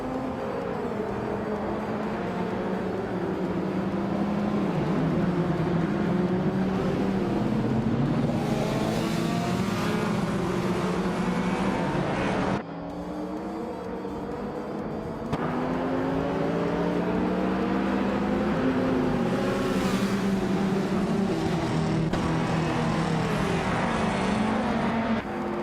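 Race car engines roar and rev nonstop in a racing video game, a loud continuous drone with rising and falling pitch sweeps as the cars accelerate and shift, one brief dip partway through.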